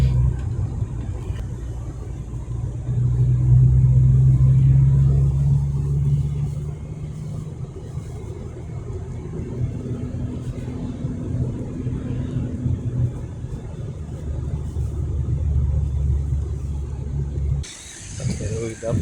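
A Bolt ride-hailing car drives along with a steady low engine rumble and road noise from inside the cabin, briefly swelling as it accelerates; someone talks over it.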